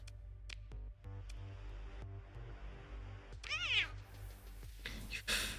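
A kitten in the space game Starsector gives several soft meows. They are followed by a longer rising and falling cry and a couple of brief sharp sounds over a quiet electronic drone.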